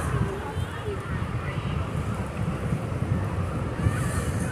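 Steady breezy wind buffets the microphone at Shanklin beach on the Isle of Wight, mixing with a constant wash of surf and distant voices.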